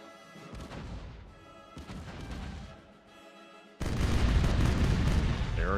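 Ship cannons boom across the water in the Caribbean Legend naval battle, a run of heavy blasts and crashes that swells into a loud, sustained barrage of overlapping fire.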